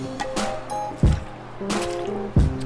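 Someone drinks water, with wet gulping and swallowing sounds, two distinct deep gulps among soft liquid slurps, very close to the mic and without talk.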